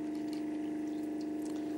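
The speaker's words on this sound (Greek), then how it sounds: "Για δέστε τι πίεση βγαίνει το νερό μας" Pressurized water flows continuously from a Camelot water filter system, a steady loud rushing stream with a constant hum beneath and no pauses.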